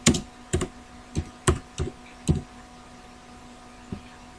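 Typing on a computer keyboard: six sharp, separate keystrokes in an uneven rhythm over about two seconds, close and clear, then a pause and one last lighter tap, all over a faint steady hum.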